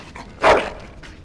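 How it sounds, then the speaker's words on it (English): A single short dog bark rings out in the Dragon Age video game, close and fairly loud, over a quiet background. "Bloody dog."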